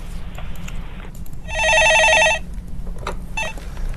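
A telephone rings once in a burst of repeated electronic trills in a quiet studio room, clear and fairly close, with faint background noise before and after.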